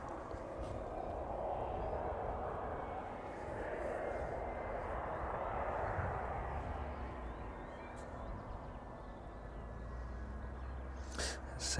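Boeing 767 freighter arriving at East Midlands Airport on an evening flight from Cincinnati, a steady broad jet engine roar holding throughout at moderate distance, with a brief sharp click near the end.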